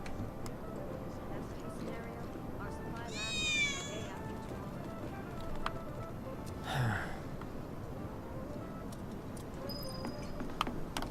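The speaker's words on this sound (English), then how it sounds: "I think one of Betty's cats might be nearby" A cat's meow in the King's Quest video game, one short rising cry and a fainter second call, heard over a steady bed of ambient game music and noise.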